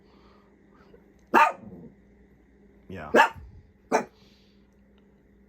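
A pet dog barks three times, sharp and close, in a quiet indoor room with a furnace that has just stopped running; a person says a single word softly in between.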